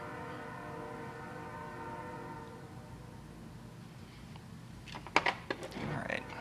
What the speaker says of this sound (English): Or maybe that's a passenger train, I don't know.